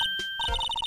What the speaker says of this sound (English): Oh, it's a phone.